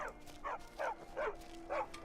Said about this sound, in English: There's a dog. Stray dog.